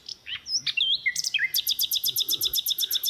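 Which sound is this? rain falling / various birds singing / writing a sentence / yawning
various birds singing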